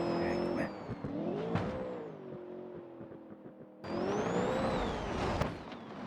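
Rally car in a racing video game, engine whining and revving through a drift with tyre skidding, pitch dipping and rising, then a sudden louder burst of engine and screech; a voice talks over part of it.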